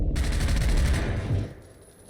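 Dense, rapid automatic gunfire in a Zero Hour league match, including bursts from a Bizon submachine gun, loud and close for about a second and a half before dropping away to a quiet tail.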